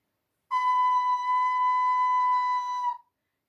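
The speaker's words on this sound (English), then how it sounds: "So note A sounds like this" A single steady ocarina note A, pure and flute-like, sustained for about two and a half seconds at even loudness before stopping cleanly, played alone.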